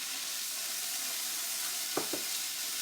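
Frozen corn hits an oiled pan for a Southwestern stir-fry, giving a steady, full sizzle that fills the whole stretch. A couple of brief utensil knocks come near the end, and no one speaks.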